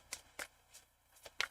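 A tarot deck is shuffled by hand in a quiet room, giving a few soft, separate riffling bursts spaced apart, close and faint.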